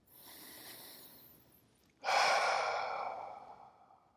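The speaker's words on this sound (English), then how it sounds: "Maybe take a few deep breaths into your belly" Two slow, deep breaths drawn into the belly, a soft inhale followed by a louder, fuller exhale that tapers off, close and quiet with no speech.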